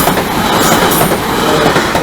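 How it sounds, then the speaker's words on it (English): A train passes close by, a loud, steady roar of rolling rail cars with wheel clatter and a faint squeal, continuous throughout. "Train's coming."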